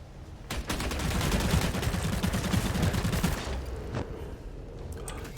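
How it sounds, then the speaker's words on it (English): Rapid, sustained gunfire sprays into the grass in the video game Bloodhunt, a dense burst lasting about three seconds followed by a couple of isolated shots, loud and close. "Is he gonna shoot into the grass?"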